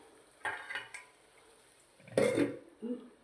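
A metal lid is set over a pan of cooking potatoes, giving a few soft metallic clinks and clatters, then a louder scraping clank and a brief rattle, in a quiet kitchen.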